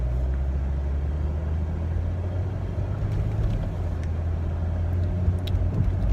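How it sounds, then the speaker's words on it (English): A car being driven, heard as a steady low engine rumble and road noise from inside the cabin, continuous and fairly loud with no talking. "I'm gonna flip the view around because I'm driving"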